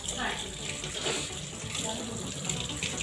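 Running water poured in small amounts while mixing sesame laddoos for Makar Sankranti in a home kitchen, a steady close splashing hiss that carries through the whole stretch without pause.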